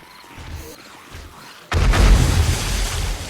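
A lit pipe bomb in 7 Days to Die goes off with a sudden heavy boom after a quiet stretch, and a loud rumbling blast then lingers to the end.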